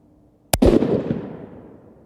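A single sharp rifle shot fired at a target, a loud close crack followed by a long booming echo that slowly fades over more than a second.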